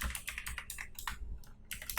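Computer keyboard keys are pressed, including the Shift key, while typing in Microsoft Word 2016: a quick run of light, close plastic clicks and taps in an uneven rhythm.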